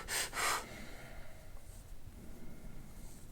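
A person breathes deeply during a painful knot massage, taking two loud, close breaths in quick succession before settling into quiet background noise.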